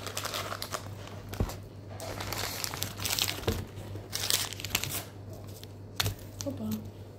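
Plastic wrapper around grape-flavoured Japanese mochi crinkles and rustles in bursts as hands try to open it, close and loud, with people talking in Bulgarian around it.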